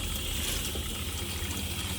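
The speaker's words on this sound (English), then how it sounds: "The drop down sink, which you will notice when I fill this up with water," Water gushing steadily from a tap into a drop-down sink, a close, continuous splashing fill with no voices.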